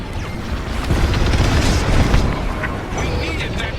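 A broadcast dish blows up in Star Wars: Squadrons with a loud, rumbling blast that swells and fades over a few seconds, mixed with ongoing combat noise and radio chatter.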